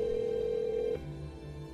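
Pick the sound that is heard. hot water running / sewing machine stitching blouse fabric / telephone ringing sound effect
telephone ringing sound effect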